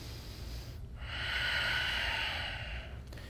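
A long, steady inhalation during a yoga pose, a soft breathy rush swelling gently for about two seconds after a brief pause, close and alone with no talking.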